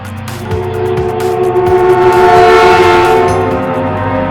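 Saharanpur–Lucknow passenger train running, loud and close, with a sustained horn-like tone over rumbling wheels and rhythmic clacking, no voices.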